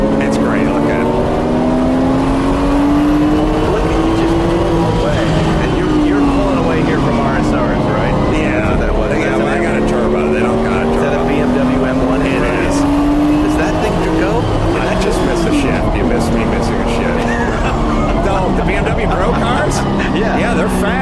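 A turbocharged race car engine accelerates hard with a loud, sustained drone while passing other cars, and the pitch rises and falls throughout. People talk over it.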